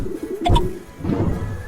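Pigeons on a rooftop give a soft, low coo close by, one short cooing phrase rising over a steady background hum of outdoor noise.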